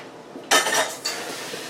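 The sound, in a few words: pot being handled on the stove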